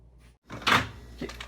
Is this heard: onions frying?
no